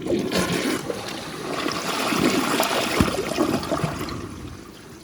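A 2015 American Standard Champion 4 Max toilet flushes, a steady rushing swirl of water that swells, gurgles and drains off over several seconds, close and fairly loud with no talking.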